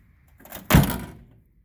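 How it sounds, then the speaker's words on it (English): The door of a rust-free 1946 Chevrolet farm truck swings and shuts with one solid close thunk and no rattle, then fades into quiet. "No door sag or rattles or anything when you shut them"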